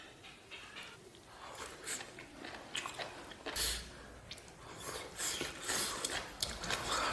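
Close, steady chewing and crunching on spicy mao xue wang loaded with beef tripe and duck blood, with repeated crisp bites and wet mastication sounds in a quiet setting.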